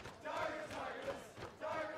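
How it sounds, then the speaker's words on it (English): Esports arena crowd at a League of Legends EU LCS match between H2K and Giants, chanting and screaming players' names in loud rhythmic bursts that swell, dip and surge again. "And now they're screaming just very many names of Giants players."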